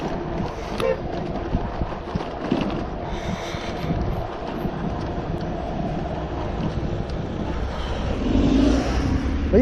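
A car creeps at about 20 km/h along the seafront embankment at Les Sables, its engine a low steady rumble with road noise and wind buffeting the microphone, swelling slightly louder near the end.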